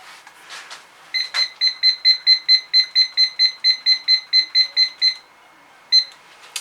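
Oven timer beeping in a steady run of about sixteen short, evenly spaced electronic beeps while it is set for cookie baking, then a pause and one more beep, clear and close.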